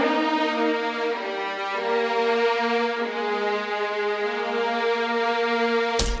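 Sampled orchestral violins, Abbey Road symphonic strings, sustain and slide in a glissando on the G string, a rich harmonic tone rising steadily for about six seconds before a brief click at the end.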